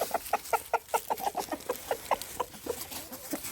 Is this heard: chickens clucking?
yes